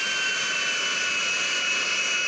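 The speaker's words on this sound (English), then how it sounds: "That's how you fly a plane in GTA 5, specifically a passenger plane, a commercial aircraft." Passenger jet taxiing toward a hangar in GTA V, its engine a steady, loud, even whine with a high tonal edge and broadband roar, unbroken throughout.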